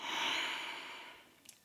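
A slow, steady nasal inhalation by a yoga practitioner during an Ashtanga standing sequence, close and soft, fading gently toward the end.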